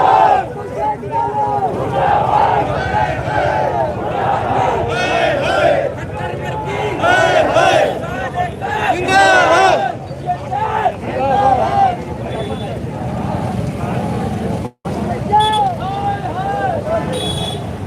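Large crowd of farmers marching toward the Sadar police station in Tohana, a continuous loud hubbub of many voices and chanting with some wind buffeting.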